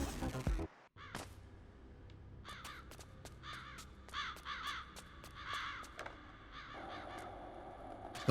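Crows caw repeatedly in the video game Bomb Rush Cyberfunk, a loose series of harsh calls over a low ambient backdrop after a brief loud sound at the start.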